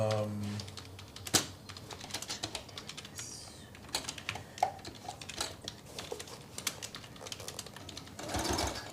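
Fingers type rapidly on a computer keyboard, a dense stream of close, clattering key clicks, while a voice talks over them intermittently.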